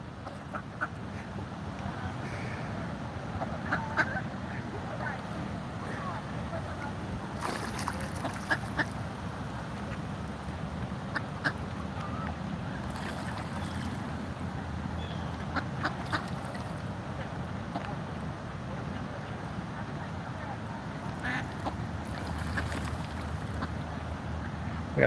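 A parade of ducks and fast-moving ducklings quack by the water during a Washington DC protest, intermittent calls rising over constant outdoor noise and wind.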